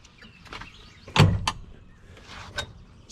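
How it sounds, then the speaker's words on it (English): Rear doors on a new side-by-side UTV are opened, giving a few close clunks and latch clicks with a louder thump in the middle, over quiet background. "To get to the back seats, you open these back doors here and just fold the seats up."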